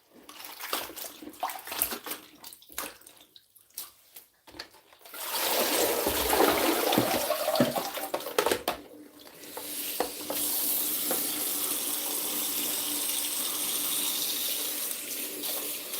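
Vegetables and basil for a morning juice get washed under a running tap: a few seconds of rattling and handling, then a loud steady gush of water with scattered splashes as the produce is rinsed.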